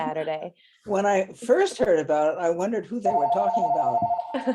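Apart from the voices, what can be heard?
telephone ringing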